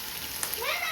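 Fish frying in hot oil gives a steady, close hiss and crackle that fills the short stretch. It runs continuously with faint voices in the background.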